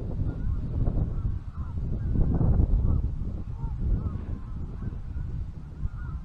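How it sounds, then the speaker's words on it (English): Geese honking as a flock flies overhead in V formation near a flooded river, a steady run of overlapping calls over continuous low rumble and water noise. "It's fascinating when you see the birds flying in a V formation"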